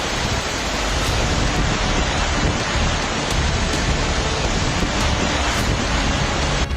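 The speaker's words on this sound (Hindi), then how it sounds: "इस वीडियो में आप पानी का प्रचंड वेग देख सकते हैं" Floodwater rushing through a devastated area of Pakistan, a loud, steady roar of churning water with no voices and no breaks from start to finish.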